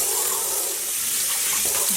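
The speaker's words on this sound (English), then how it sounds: "This washing might take a little longer than normal because not only are we rinsing it out, but the yarn isn't wet." Tap water runs steadily into a sink as dyed cotton yarn is rinsed and soaked, a close, continuous splashing hiss with small gurgling shifts, heard alone without voices.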